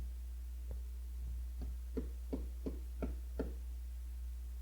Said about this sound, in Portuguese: Bater a porta